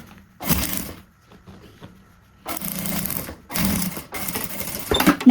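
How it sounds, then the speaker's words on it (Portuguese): Sewing machine running in short bursts while stitching bias binding on a zippered pouch with a clear window, a buzzing mechanical rattle that starts, pauses and restarts, close and alone. "eu vou alinhar com a lateral e passar uma costura de um pé de máquina"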